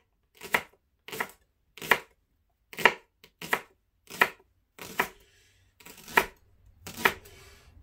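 A knife thinly slices leeks on a cutting board: about ten crisp, separate chops in an uneven steady rhythm, close and clear, with near silence between strokes and a faint hum near the end.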